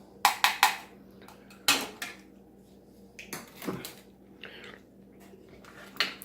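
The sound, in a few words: mixing food in a pot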